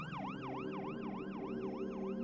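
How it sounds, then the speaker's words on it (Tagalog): Ambulance siren sweeping in a steady rising-and-falling wail, loud and continuous with no voices, as the emergency vehicle arrives outside a house. "meron nang dumating na ambulansya doon sa tapat ng bahay nila"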